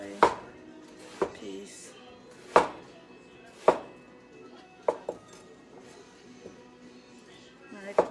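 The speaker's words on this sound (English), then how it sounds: "Now all I have to do is slice it like these way" A knife slices fruit into thin pieces for a fruit salad. It makes a series of sharp, irregularly spaced cutting thuds, close by, while a person talks between the cuts.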